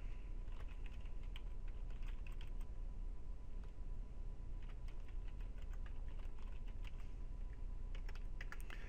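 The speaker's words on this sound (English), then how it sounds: "I can't type my password and username without talking" Rapid, steady typing on a computer keyboard while entering a password, dense clicking keystrokes running continuously without pause, with no voices.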